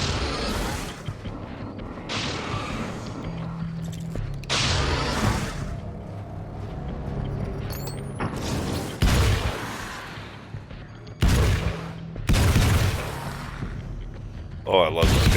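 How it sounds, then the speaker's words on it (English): An AA-12 fully automatic combat shotgun fires in Alan Wake's American Nightmare in several heavy bursts of booming blasts spread across the moment, with mechanical clatter between them. "Combat shotgun. Yes, please. This is my favorite gun in the whole world. The AA-12. Fully automatic shotgun."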